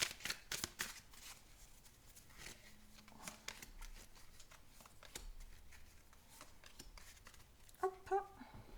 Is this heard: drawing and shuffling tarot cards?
yes